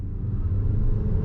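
A Haval H6 HEV hybrid car accelerates at full throttle with a steady, loud, low engine and road rumble heard close from inside, without talking.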